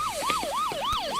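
A police siren wails in a fast repeating up-and-down yelp, four quick sweeps in just over a second, loud and fairly close with a faint background hum.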